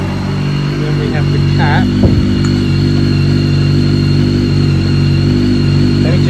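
A BMW K1300S motorcycle engine idles steadily and close by, a constant low hum that runs the whole time beneath a man's speech.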